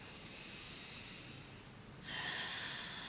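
A person takes a slow, deep breath in through the nose during a home lymphatic drainage massage. The sound is soft and airy, and the intake grows stronger partway through before ending.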